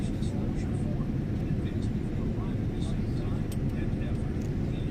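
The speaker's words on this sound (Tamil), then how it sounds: "ஃப்ளைட்டு லேண்ட் ஆக போகுது." Steady low roar inside the cabin of an Etihad airliner as it descends to land at Abu Dhabi, a constant dense rumble that never lets up.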